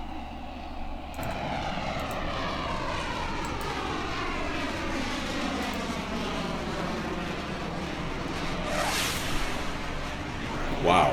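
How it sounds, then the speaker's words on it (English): A Blue Angel jet roars past as a long sustained engine rumble with a sweeping pitch shift, swelling to a loud peak near the end, while people talk beneath it. "wouldn't you rather be flying a Blue Angel? Like a Blue Angel"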